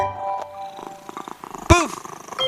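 A kitten purrs softly in low rumbling pulses, broken by a brief, louder high-pitched meow near the end, heard close and alone.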